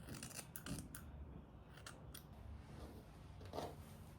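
Scissors snip through a child's long pink hair extension, a few close, crisp cuts spaced out over the quiet room.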